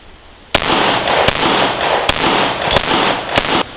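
An Arex Rex Zero 1 CP pistol fires through a magazine: about eight sharp, loud shots at an uneven rhythm over a steady ringing background, close up, with no talk.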